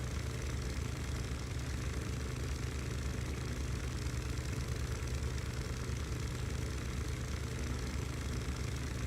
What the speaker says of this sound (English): I love the motorcycle Cyclops too.